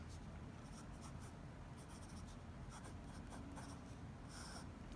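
A Mont Blanc 146 fountain pen with a fine 14 karat nib scratches faintly across paper in short strokes, very quiet and close, under a steady low hiss of background noise.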